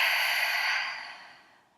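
One long exhale during a breathing exercise, a close, airy whoosh of breath that starts strong and fades gradually to near silence.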